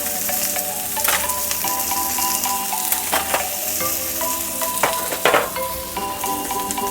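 Bánh khọt, small Vietnamese savory pancakes, crackling in oil in a cast mold as they are pried out, a steady close sizzle broken by sharp scraping clicks of the lifting tool against the metal.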